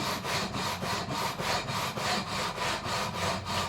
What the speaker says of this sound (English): we're going to just level the frets along the whole length of the neck